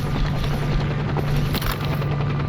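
Helicopter from the game Stalker Anomaly, a steady rotor drone and engine hum running throughout at moderate loudness, with distant gunfire cracks scattered over it.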